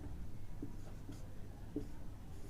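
Faint chalk or marker strokes on a board during a Hindi geography lesson, a few short scratchy taps spaced about a second apart over a low room hum.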